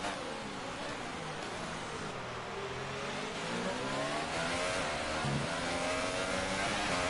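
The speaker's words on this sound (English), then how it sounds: "so now, turning up the engine" A Formula 1 race car engine in the F1 2018 video game at the Bahrain Grand Prix revs steadily and loudly, its pitch climbing and sweeping in continuous accelerating waves with no talk.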